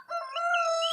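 A rooster crows once, a clear, drawn-out call with bright, stable harmonics that rises in and holds steady, close and loud with no talking over it.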